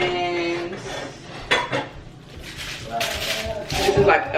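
Metal pots and lids being unpacked and handled in a new apartment kitchen, with clanks and rattles scattered between bursts of someone talking.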